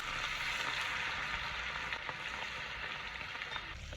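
Prawns frying in hot oil, a continuous bright crackling sizzle with scattered pops, steady and close throughout, no one speaking.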